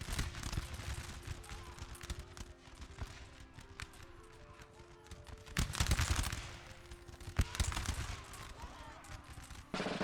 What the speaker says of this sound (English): The sound of the muskets firing, the views of the battle,